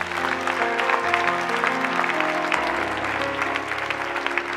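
A church seminar congregation applauds steadily and loudly throughout, a dense crowd of clapping with no one speaking over it.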